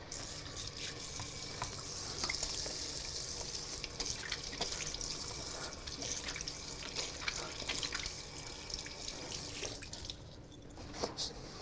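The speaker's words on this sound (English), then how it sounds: "it means I'm running to the kitchen to wash my hands" Water runs steadily from a kitchen tap as paint is washed off hands, with a broad continuous splashing hiss, some dripping and clatter, and a brief drop near the end.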